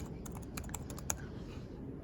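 Typing on a computer keyboard as a short title is entered, quick irregular key clicks heard close and fairly quietly.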